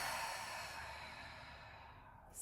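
A single long, steady exhale out through the mouth, soft and breathy, fading gradually with no talk.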